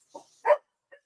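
Several dogs give a few short, sharp barks close by: a small yip, a louder bark, then a faint final yelp, each separated by silence.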